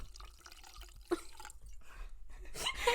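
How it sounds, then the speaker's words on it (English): Wine poured into a cup, a close trickle with a few splashy drips and a rising liquid patter near the end, with a quiet voice nearby. "Pouring wine into the cup."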